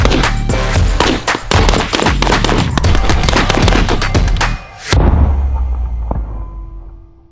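Rapid, loud gunfire echoes across a shooting range with a Sig Romeo 4XT Pro red-dot-equipped rifle, a dense burst of shots with one brief pause before the final volley, then decaying ring-out.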